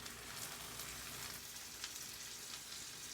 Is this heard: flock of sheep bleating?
no